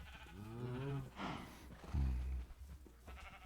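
Llamas and cows in Minecraft let out a couple of bleating, lowing animal calls, one early and a deeper louder one about halfway through, close by over faint game ambience.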